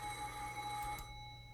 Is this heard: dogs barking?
no